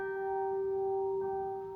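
A carillon bell at the University of Sydney struck softly with the fist, ringing as a steady sustained tone with bright overtones, alone and fairly quiet.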